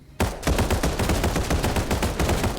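Rapid automatic gunfire shooting at a bomb monster in the video game Final Fantasy VII: The First Soldier, a loud steady burst of repeated shots starting abruptly and continuing without pause.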